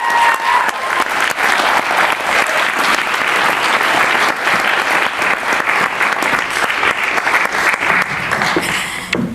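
Audience at a university graduation ceremony applauding a poet as she comes on stage, sustained loud clapping from a large crowd for the full length, steady and dense.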